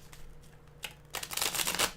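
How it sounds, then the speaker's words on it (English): Fortune-telling Gypsy cards shuffled by hand, a few light riffling flicks followed by a louder, dense burst of close riffle shuffling, heard alone with no talk. "And let me shuffle. I'm going to use Gypsy deck for this one over here."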